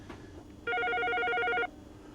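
A telephone rings once in a steady electronic burst lasting about a second, in a quiet restaurant back room where a chef is hiding out, loud and clear against faint background noise.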